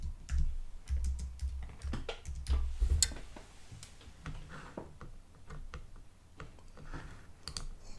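Someone types text on a computer keyboard at close range, producing quick, irregular key clicks in short bursts with brief pauses between them.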